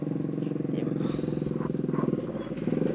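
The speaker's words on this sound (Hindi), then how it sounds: "लोग बड़ी मुश्किल से बाइक लेके जा रहे हैं" A motorcycle engine putters along steadily in a flooded, littered village lane in Uttar Pradesh, its rhythmic low chug running throughout while a voice speaks over it.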